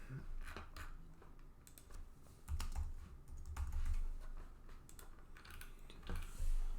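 Scattered keystrokes tap on a computer keyboard, light irregular clicks over a low hum of room noise.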